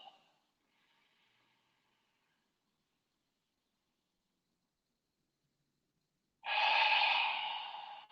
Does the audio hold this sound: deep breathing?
yes